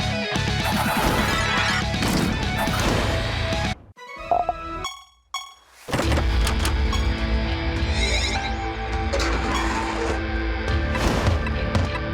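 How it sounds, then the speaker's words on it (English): Ice cracking and shattering as a Yeti bursts free in the Siralim Ultimate video game, loud repeated crashing and splintering impacts with a brief quieter break midway before the smashing resumes. "Soon it begins to crack and splinter, before shattering outright as the Yeti within bursts free and attacks."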